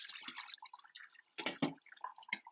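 Sauerkraut brine drains from one pot into another, with irregular splashes and drips of liquid that come in short bursts. It sounds close and moderately loud.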